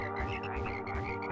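Frogs croak in a rapid, pulsing chorus, released by a poison Plague Scroll attack in the video game Tiny Rogues, loud and alone with no talking.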